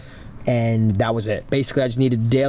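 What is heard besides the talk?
None of the usual background noises is heard.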